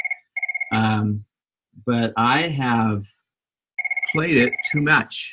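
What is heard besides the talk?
phone ringing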